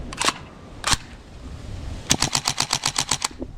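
A GHK AKM airsoft rifle fires and struggles to cycle: two isolated sharp shots with a pause between, then a rapid, close burst of about ten snapping shots in quick rhythm, loud and alone.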